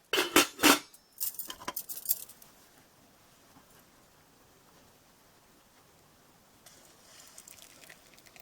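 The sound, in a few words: putting the lid on a pot of chai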